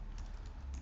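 Computer keyboard keys tapped quickly while a command is entered on an Ubuntu server, a short run of soft, close clicks at low volume.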